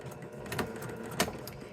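Sewing machine stitching and back stitching a quilt block seam, a steady mechanical whir with two sharper knocks as the stitching reverses, close and continuous.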